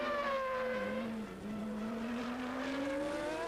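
Formula 1 race cars at the 1993 Canadian Grand Prix, Ayrton Senna's McLaren Ford among them, scream steadily at high revs for several seconds, the engine pitch dipping briefly and then climbing again.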